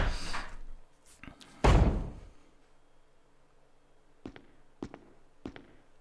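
A door in a video game is opened with a heavy thud and rattle, followed by a few sharp clicks and knocks, fairly quiet overall.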